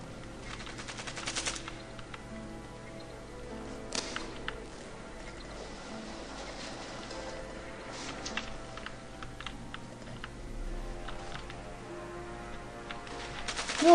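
Gunfire in the video game Evil Genius: quiet, scattered bursts of rapid shots and clicks over a low steady game background, with a few louder pops.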